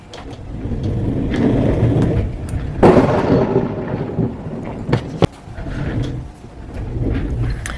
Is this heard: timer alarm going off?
no